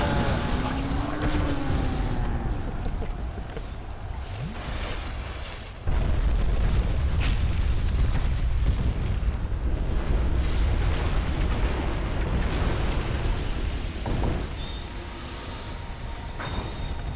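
Repeated fire attack explosions from a giant in a Dark Souls 2 boss fight, played on PS3, rumble as loud deep booms over a constant low roar, with a heavy burst around the middle.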